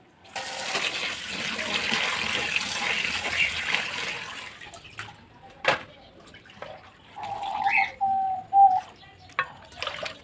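Water runs from a tap for a few seconds while chicken is washed before marinating, a steady rush that then stops, followed by scattered splashes, clunks and short bursts of running water.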